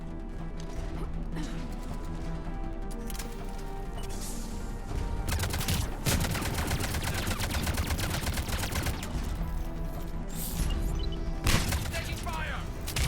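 Sustained automatic gunfire and scattered impacts from a Mass Effect 3 firefight, loud and continuous with bursts of crackling shots throughout, heard under background game music and voices.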